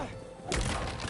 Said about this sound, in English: I'm sure that old box won't mind if I just give it a little love tap.